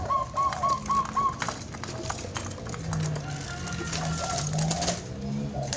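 A perkutut zebra dove named Jatmiko, a wild, agitated caged bird, gives a quick run of soft repeated coos near the start, then falls quiet under steady background noise and faint voices.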